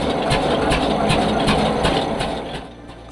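A mill engine runs steadily at a village milling site, a loud continuous mechanical drone with a regular pulsing beat, easing off slightly toward the end.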